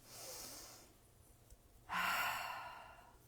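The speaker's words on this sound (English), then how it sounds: "Deep breath." A deep breath drawn in and slowly let out during a guided calming exercise, a soft airy inhale followed after a pause by a fuller, louder exhale close to the microphone.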